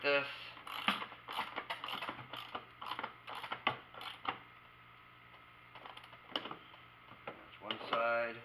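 Ratchet wrench clicking in short bursts while tightening bolts on a gold-mining drywasher, the quick mechanical ratcheting repeated close by, with a voice talking over it.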